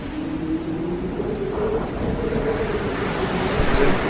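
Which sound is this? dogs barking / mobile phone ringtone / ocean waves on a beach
ocean waves on a beach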